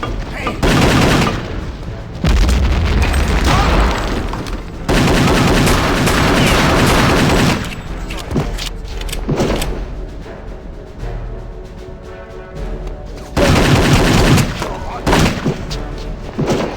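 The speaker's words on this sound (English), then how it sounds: "I got some new pistols. They apparently are a dual-wield weapon." Dual-wielded pistols fire in a video game where the player fights Nazis: loud rapid volleys in several long bursts, separated by quieter stretches of distant booms and someone talking.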